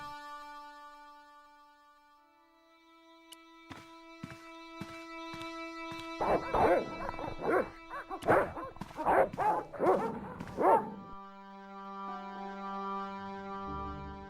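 Dogs bark in the Broken Sword video game, sending a quick run of loud, close barks and yips over a sustained musical drone, with a few isolated barks before them.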